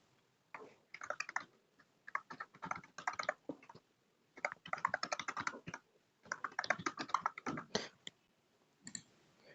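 Someone types on a computer keyboard while filling in an online form, producing quick irregular clusters of close, crisp key clicks with brief pauses.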